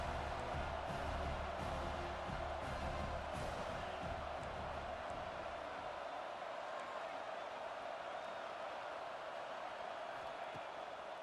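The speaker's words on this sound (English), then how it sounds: "The roar of the crowd trying to fuel this defense to keep them pinned in their own end." Stadium crowd roaring during a College Football 26 video game, a steady dense wash of noise that stays loud and continuous throughout, with low rumble fading somewhat in the second half.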